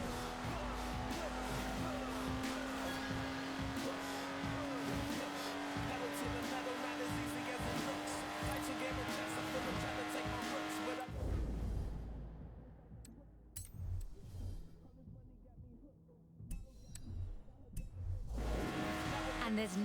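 A Lotus Exige's engine drones steadily while driving in Forza Horizon 4, with tire noise, then cuts sharply to a quieter, rougher stretch before the engine sound returns near the end.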